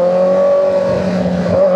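A Kawasaki Z900 motorcycle with a full system exhaust holds a loud, steady high rev with a sharp buzzing tone, briefly dipping and rising again near the end, close up with no talking.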